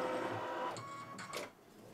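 A computerized embroidery machine stitches a Kimberbell table topper: a close, steady mechanical whir with rapid needle chatter, a couple of brief higher-pitched motor tones partway through, settling slightly quieter at the end.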